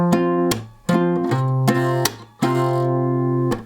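Acoustic guitar with a capo picks single notes on the E string, a few separate ringing plucks spaced about a second apart, clear and close with no talking.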